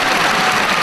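Dense, steady roar of a wrestling crowd cheering for D'Lo Brown at a British FWA show, a loud continuous wash of massed voices and clapping with no break.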